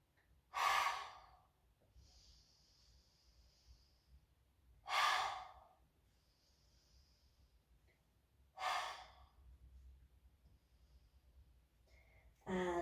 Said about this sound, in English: take a couple of cleansing breaths, so in through the nose and out through the mouth